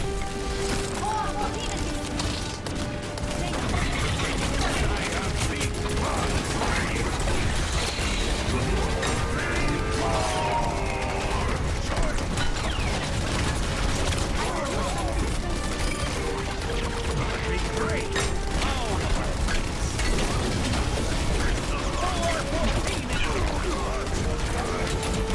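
Video game turret fire against enemies with shields, a dense continuous barrage of rapid shots and mechanical clatter mixed with game effects, loud and sustained throughout.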